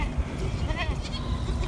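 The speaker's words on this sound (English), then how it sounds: "There's the prettiest little goat right there." A young chocolate brown goat, under a month old, bleats near a farm greenhouse, several short wavering calls over a quiet outdoor background with a person talking softly nearby.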